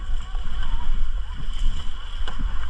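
Paddles work a rowboat through water with irregular splashes and strokes, mixed with wind buffeting the microphone and low rumble, while people shout and talk over it.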